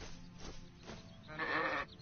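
A sheep bleats once in the fantasy video game Arcania, a loud wavering call standing out over a low ambient game background, with no talk.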